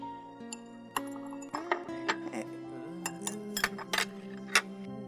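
A spoon clinks repeatedly against a cup while sugar is stirred in, with sharp bright taps at an irregular rhythm, close and clear over a quiet background hum.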